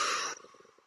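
A deep diaphragmatic exhale: a short, breathy rush of air, close and soft, that cuts off abruptly after about a third of a second into faint low murmuring.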